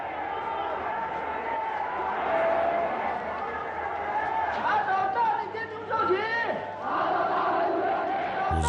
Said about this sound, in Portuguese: estádios que tremiam com os gritos da multidão